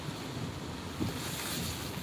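Strong wind from Hurricane Ida, a Category 4 storm in Louisiana, roars as a steady, dense rush of noise across the whole short stretch, loud and unbroken, with no voices.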